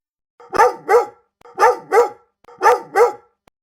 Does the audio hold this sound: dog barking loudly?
yes